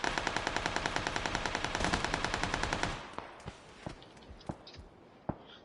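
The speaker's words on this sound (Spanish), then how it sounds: "Nos disparan desde atrás." Rapid automatic gunfire from behind in PUBG on PS4: a steady stream of loud shots for about three seconds, followed by scattered single reports.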